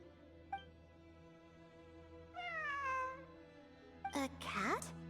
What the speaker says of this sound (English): It really is a cat.